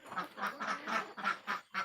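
Khaki Campbell runner ducks quack in a coop in a rapid run of about seven harsh, nasal calls, close by with no talking.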